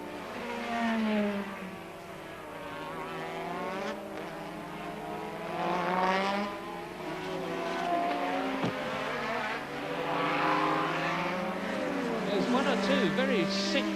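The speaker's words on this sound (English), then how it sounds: "Very sick-sounding motor cars on the circuit at the present moment." Formula One cars at the Dutch Grand Prix at Zandvoort pass with rising and falling engine whines, several sweeping by one after another at moderate distance, under continuous commentary talk.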